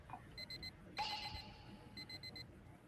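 An alarm clock rings in a gacha video game, giving bursts of high, bright beeping in quick triplets and fours, broken by a brief louder chime swell in the middle, with no talking.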